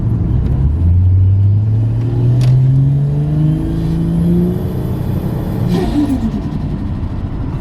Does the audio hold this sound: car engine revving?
yes